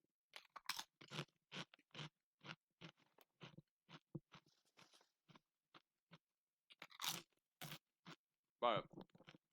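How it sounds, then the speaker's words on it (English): Candy being chewed right up against a microphone, with repeated crunchy bites and wet mastication in an uneven rhythm, loud and close with no talking over it. "Let me move the microphone away a little bit while I'm chewing this"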